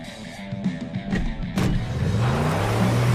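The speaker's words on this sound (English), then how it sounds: "it follows the car driving away with the Dilophosauruses following them just shortly behind" A car in Jurassic World Camp Cretaceous driving away, its engine rising into a steady drone with a climbing pitch, loud and close, with scattered thumps and clatter early on and no talking.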